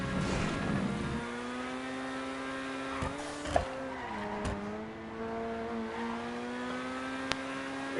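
A Pegassi Osiris-style supercar in a GTA V stunt race, here a GTO, screeches through a corner with its engine droning steadily and tires squealing as it tips up onto two wheels, with a few sharp knocks near and loud.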